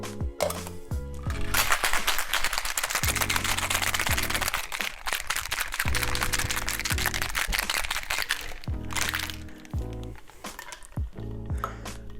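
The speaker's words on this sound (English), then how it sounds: "Add some ice in this. And give it a good shake." Ice rattles hard inside a cocktail shaker for a Jägermeister and vodka drink, a fast, dense clatter lasting several seconds over light background music before it stops.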